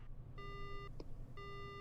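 A phone call ringing in the video game Spirit Hunter NG: two pure electronic beeping tones, a short tick between them, quiet over a low steady hum.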